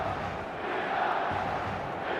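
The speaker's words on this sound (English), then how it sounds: "There's a real expectant buzz in the stadium" Steady, expectant crowd buzz filling a football stadium in eFootball 2026, a dense continuous murmur with no distinct cheers, holding an even level throughout.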